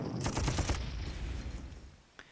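A rapid burst of gunfire from an assault in the war game Panzer Corps, a dense rattle of shots that fades out, then one faint click near the end.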